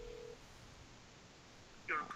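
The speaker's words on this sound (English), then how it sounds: "I'm gonna try calling Little Tinker Media one more time" A telephone is dialed to place a call: a short steady tone at the start, then a brief bright dialing beep near the end over quiet background hiss.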